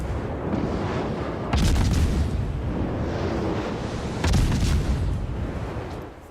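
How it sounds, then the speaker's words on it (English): Rapid 5-inch naval guns fire in the World of Warships game, heavy booming reports arriving in quick bursts over a constant rumbling battle background, loud and close. "Just look at the rate of fire of these guns."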